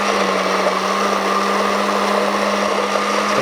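A food processor whirs steadily as it blends red pepper hummus, a loud, constant high motor drone with a low hum that never lets up, heard alone without talk.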